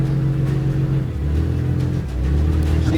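A car engine labours and revs as its wheels spin on a muddy abandoned track during a storm, a loud, close, rumbling drone that surges and dips in pitch, with no talking.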